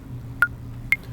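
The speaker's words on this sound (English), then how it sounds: "So there's my click." Pro Tools metronome click track: two short, sharp electronic clicks about half a second apart, clear and alone over a faint low hum.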